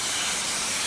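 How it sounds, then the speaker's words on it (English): Steam hissing at a Vincent screw press pressing black soldier fly larvae, a loud steady broadband rush filling the whole short moment without pause. "we got the steam pressure turned up"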